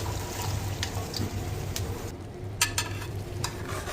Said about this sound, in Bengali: এখন এই কষানো মাংসের মধ্যে কি করব, এই যে এই সবজি সরাসরি দিয়ে দিচ্ছি।